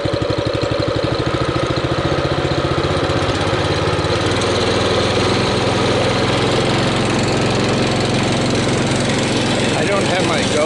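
Small engine of a Baja Warrior minibike with the choke on, running with a rough, rapid pulsing idle that shifts as it is ridden, close and loud throughout.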